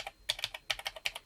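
Keys clatter on an old computer keyboard with an XT-style layout and a giant spacebar, a quick uneven burst of crisp, close keystrokes with no talking.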